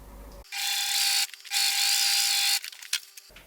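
A sewing machine stitches the side seams of a garment, two bursts of rapid whirring up close, the second longer, then a few short clicks.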